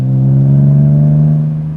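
BMW Z3M Roadster's tuned street engine revving in a loud, sustained, low droning rise and hold, close by and alone.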